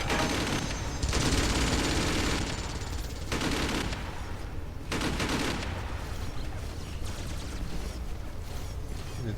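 Sustained bursts of turret gunfire from a drop pod in the video game Carrier Command: Gaea Mission, rattling loudly in two or three long volleys with brief lulls between them over a constant low rumble.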